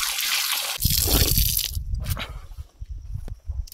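Water running from a tap at a school in a remote mountain village, a close gushing and splashing stream that starts loud and then breaks into irregular drips and spatters.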